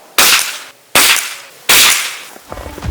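Three sharp reports from a vintage .22 long rifle being sighted in outdoors, each a loud close crack with a short decaying tail, spaced roughly evenly with no talking.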